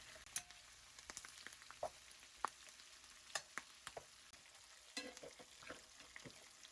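Lamb chops fry in butter in a pan, giving a faint crackling sizzle with scattered sharp pops and stirring clicks and no talk.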